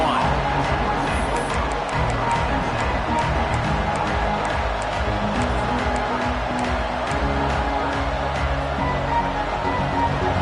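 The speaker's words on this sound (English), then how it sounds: "This crowd ready to make its presence known." A football stadium crowd roars steadily through the whole stretch, a dense, continuous wash of cheering and noise with no single voice standing out, loud and sustained from start to finish.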